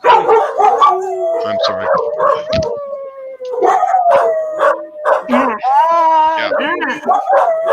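Corgi dogs howl in long wavering tones mixed with yips and barks, close and loud, while people talk over them now and then.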